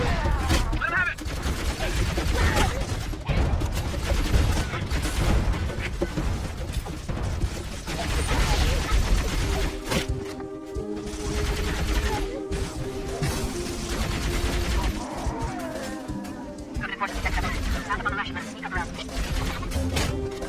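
Gunfire in Halo: Combat Evolved, loud dense battle volleys and explosions running continuously under spoken dialogue, with a steadier stretch of sound later on.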